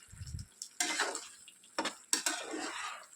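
A spoon scrapes and stirs thick gobi manchurian gravy in a pan in three or four rough, sweeping strokes, close and moderately loud, with a soft clink at the start.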